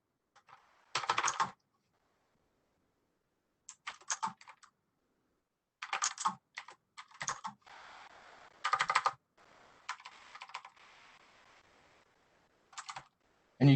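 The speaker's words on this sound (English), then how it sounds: "when I type it correctly now" Bursts of typing on a computer keyboard during data entry in an office software demo, short clusters of quick close clicks separated by pauses of silence, with no talking.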